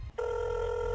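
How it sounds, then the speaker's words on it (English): Telephone ringing in the video game Belle Automata: after a brief low rumble, a clean electronic ring kicks in and holds steady, a sustained bright tone at moderate volume. "I wake up to the sound of ringing in my head."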